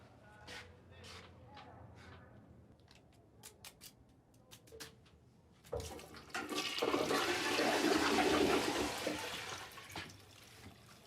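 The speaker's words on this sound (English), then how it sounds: "Why are you flushing down the toilet?" A toilet flushes in a TV drama scene, a loud rushing swirl of water that swells and then slowly drains away, preceded by quieter scattered clicks and faint voices in the background.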